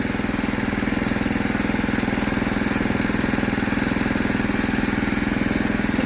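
A power weeder's small engine runs steadily at a constant speed close by, with a loud, even, rapid firing rhythm and a buzzing mechanical drone throughout, with no voices.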